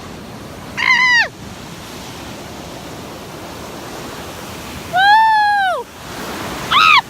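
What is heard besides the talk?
ocean waves at the beach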